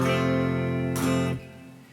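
A guitar chord rings with dense sustained harmonics, then near the end the shape slides down a fret with a brief scraping swipe before the sound drops and fades; close and alone, no voices.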